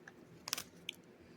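A bite into a protein bar gives a short cluster of crisp crunches followed by a single softer crunch, close and quiet against a hushed background.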